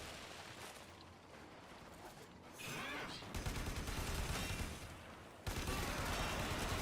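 Rapid gunfire from the video game Warframe, dense bursts of shots that grow louder and more sustained partway through, continuing without any talk.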